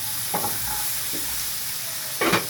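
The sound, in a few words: chicken and onions stirred and sizzling in a pan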